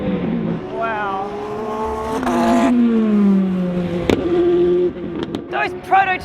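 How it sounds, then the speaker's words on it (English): Porsche Le Mans prototype race cars sweep past on the circuit, each rising and falling whine sliding down in pitch as it goes by, with a sharp crack and crowd and voices talking around them. "Those prototypes are the meanest thing I've ever seen. The Porsches sound mean."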